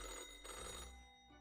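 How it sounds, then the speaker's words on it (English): An old-fashioned telephone in the video game Death and Taxes rings with a loud, harsh metallic clatter, a continuous bright bell tone that fades slightly toward the end, heard alone. "The old-fashioned phone suddenly rings with an ear-piercing metallic clatter."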